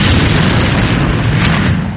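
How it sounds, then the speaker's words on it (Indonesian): Loud, dense explosion sound effect in a martial arts fantasy audiobook, a deep booming blast that fills the whole moment and rumbles steadily before starting to fade, with no voice over it. "Ledakan keras terjadi"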